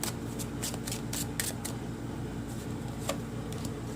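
Tarot cards are shuffled and drawn from the deck, bursts of quick papery riffling and flicks over a low steady room hum, with no talk.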